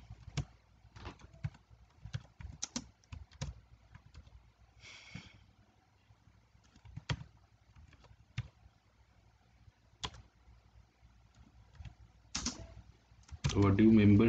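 Keys clatter on a computer keyboard while a heading about overdue membership fees is typed, giving sparse, irregular clicks at close range that get louder near the end.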